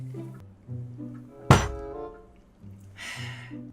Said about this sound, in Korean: 이건 축배입니다. 여러분들 짠합시다.